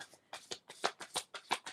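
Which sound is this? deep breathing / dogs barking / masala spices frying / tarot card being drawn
tarot card being drawn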